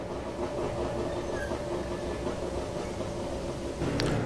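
A two-stroke Wartburg with an East German plate runs at a classic car show, its engine giving a steady, rough drone at constant level, a brief knock near the end.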